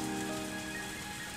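Steady rain downpour from a visual novel game, a dense, even hiss of drops pattering on a surface throughout, with soft music tones held underneath and no voices.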